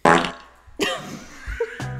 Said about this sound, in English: I'm begging you to make the little computer fart.